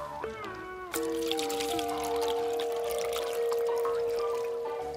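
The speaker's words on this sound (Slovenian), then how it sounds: "Pogon bo začel delovati, ko nalijem vodo." Water poured steadily into a small water-powered toy boat, a continuous close trickle and splash with a rising ringing tone as the vessel fills, loud and unbroken for several seconds.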